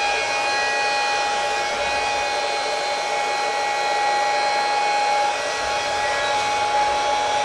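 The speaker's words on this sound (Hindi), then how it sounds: "मैं यहाँ पर इस हेयर ड्रायर को भी ऑन करता हूँ।" A hair dryer powered through a 12V DC to 220V AC inverter runs at a steady, loud whirring roar with a high-pitched motor whine on top, unbroken for the whole stretch.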